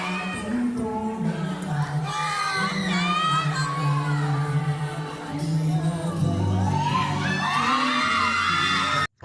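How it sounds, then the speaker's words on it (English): Fans at a fan meeting scream continuously and loudly as the group comes on stage, with high-pitched shrieks and whoops that swell in waves across the whole stretch. "there is extra screaming during this particular song because this is the very first song"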